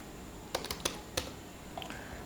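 Several sharp clicks of typing on a computer keyboard while writing a C program, scattered in short bursts, close and fairly faint in a quiet room.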